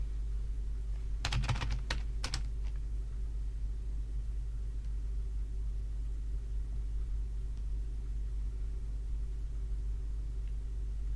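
Typing apt-get update on a computer keyboard, heard as a short quick burst of key clicks near the start, then fading into a low steady hum of background rumble.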